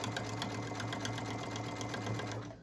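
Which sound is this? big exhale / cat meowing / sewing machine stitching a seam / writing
sewing machine stitching a seam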